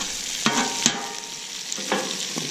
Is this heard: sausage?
yes